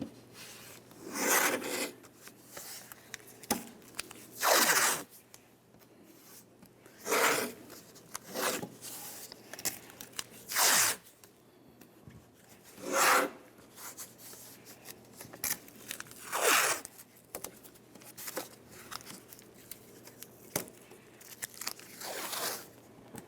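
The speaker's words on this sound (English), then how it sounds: "We'll just grab this window, lift it up, hold it in place while we tape it." Tape tears off the roll in a series of sharp, rasping bursts spread over the stretch while a car window is held up in a 2003-2011 Mercury during a power window motor and regulator replacement, close-up with no voices.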